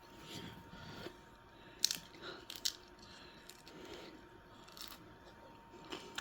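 Biting and chewing into a hot cabbage dish, with two sharp crunchy bites standing out among soft, quiet mouth sounds close to the mic, no talking.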